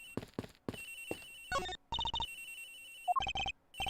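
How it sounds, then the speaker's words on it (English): A cell phone ringtone from Ace Attorney Investigations plays in short melodic bursts, chirping phrases separated by brief gaps, clear and fairly close with no voices. "Sounds like the phone is up in the flight attendant's room."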